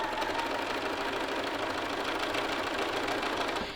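A sewing machine runs in one steady continuous stitching burst, sewing close beside the seam line along a lapel edge of a garment, with no talking over it.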